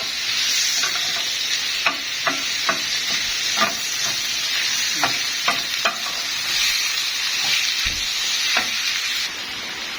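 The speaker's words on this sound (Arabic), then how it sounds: "كده شوحنا الكبده ونقلناها على عين واطيه شويه" Liver sizzles and fries in a pan while being stirred, with a steady hiss broken by repeated scraping and clacking strokes of a utensil, close and fairly loud.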